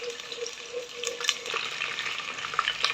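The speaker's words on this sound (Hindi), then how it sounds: "हाँ, घी गर्म हो रहा है।" Desi ghee heating in a pan for suji ka halwa, giving a soft, continuous sizzle with scattered crackles and faint stirring scrapes, close and unaccompanied by speech.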